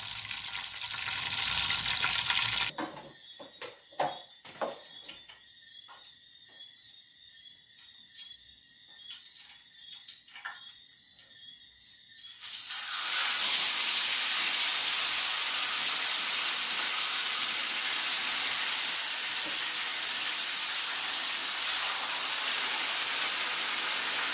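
Fish fries in a pot of hot oil with a dense, steady hiss and crackle that runs loud at the start and end, while a quieter stretch in the middle carries scattered pops and clatter.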